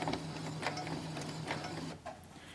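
A sewing machine running steadily as it stitches forward, a continuous mechanical whir with rapid needle ticking that stops abruptly near the end, followed by a brief quieter click.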